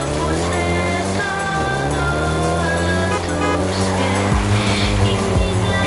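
A Volkswagen Golf GTI driven in Forza Horizon 5 gives a loud, continuous engine drone with shifting harmonics and brief dips as it changes gear, some faint tire noise mixed in.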